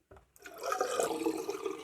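A razor held under running tap water, a brief gush starting after a short pause, then a steady close splashing flow that carries on to the end.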